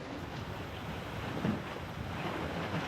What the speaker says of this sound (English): we got the big spinnaker up, and we are flying downwind